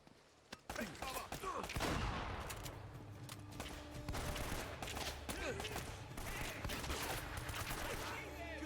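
Dense, continuous gunfire rattles through a firefight in the video game Uncharted, with overlapping bursts and volleys sustained for several seconds at a loud, steady level.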